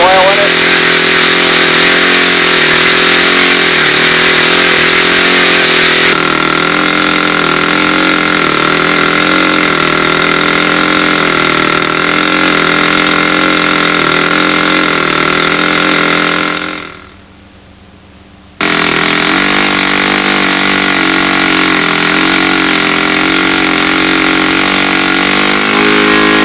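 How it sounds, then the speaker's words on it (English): A model P-51 Mustang's engine, running on fuel with 22% oil, drones steadily and loudly at close range. Valve-train chatter rides over the engine note, which drops out abruptly for about a second before resuming just as strong. "The motor is so quiet I can hear the rocker arms."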